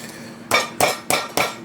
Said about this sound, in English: we like to get that pounded down a little bit